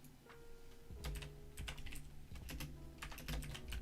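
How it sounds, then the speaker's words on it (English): Rapid, irregular clatter of keys on a computer keyboard, close and fairly loud, with bursts of typing running continuously and no talking. "I'm gonna be very short typing with it"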